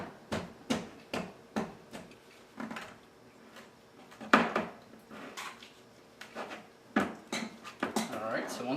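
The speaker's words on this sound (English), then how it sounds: "I'm going to begin to mash these up." Cooked, cubed potatoes being mashed in a bowl, with a steady series of soft, dull thuds and scrapes at an even rhythm while someone talks.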